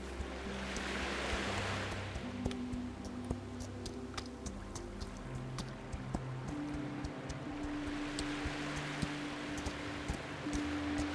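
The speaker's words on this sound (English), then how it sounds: "really nice waves coming into shore" Gentle surf rolling onto a shore in a video game, a steady broad wash of waves with soft swells, mixed with faint ticks and a low background music drone.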